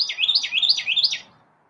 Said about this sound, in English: Oh, it's a blue jay of some sort.